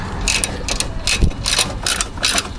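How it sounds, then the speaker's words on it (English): A ratchet clicks in quick repeated bursts, close and loud, as bolts are tightened on a replacement catalytic converter on a 2017 Honda Pilot, with faint metallic clanks between strokes. "so now I just gotta tighten everything up."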